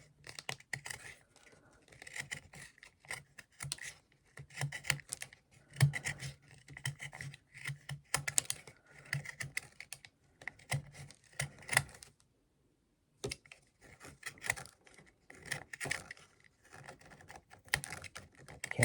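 A bonsai root and soil tool cuts through a root ball in quick scraping, rasping strokes. The bursts come in irregular clusters with one brief pause near the end, close and fairly quiet.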